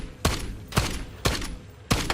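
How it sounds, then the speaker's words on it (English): Four heavy gunshots in a video game, spaced about half a second apart, each a sharp close blast with a brief tail. "somebody behind me shooting me."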